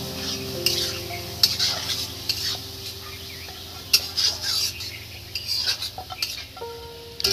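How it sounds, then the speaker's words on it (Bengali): Soaked dal goes into a hot pan for khichdi and is stirred, with a steady sizzle under scraping spoon strokes and occasional sharp clinks of metal against the pan. "এবার এই যে ডালটা আমরা ভিজিয়ে রেখে দিয়েছিলাম সেটা এবার দিয়ে দিচ্ছি"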